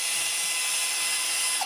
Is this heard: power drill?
yes